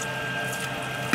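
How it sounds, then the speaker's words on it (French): Water runs steadily into bread dough turning in a kneading mixer on low speed, a continuous liquid pour over the hum of the machine, close and even, with a small knock at the end. "Donc là, j'incorpore de l'eau."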